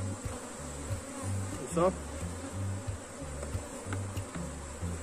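Africanized honey bees buzz at an open hive in a dense, continuous hum, and someone speaks Portuguese briefly over it.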